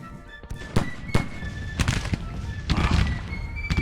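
Ragged musket volleys crackle through a Civil War battle in the strategy game Grand Tactician: The Civil War, with several sharp bursts of massed gunfire and scattered single shots rolling at mid-distance over a dull battlefield rumble.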